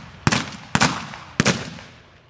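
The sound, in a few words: gunfire during the McSween house siege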